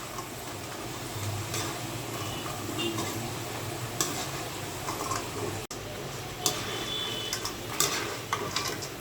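French fries crisp in hot oil as a steady soft sizzle, with occasional clinks and scrapes of a utensil stirring in the pan; the frying is moderately quiet and close.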